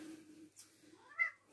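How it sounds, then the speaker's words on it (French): Nougat, a pet cat, gives a short rising meow indoors, close and clear, following a few soft rustles and a low hum in a quiet room. "j'ai mon chat Nougat qui vient d'arriver"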